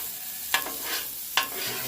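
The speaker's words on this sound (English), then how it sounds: "So you got the butter, we're just kind of caramelizing the veggies for a couple minutes before we throw the meat on." Vegetables and mushrooms cooking in butter in a pan, a soft steady sizzle broken by two sharp scraping stirs, close and alone without talk.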